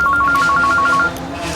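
A phone rings with a fast warbling electronic tone, repeating pulses for about a second before cutting off, heard over a busy background of room noise.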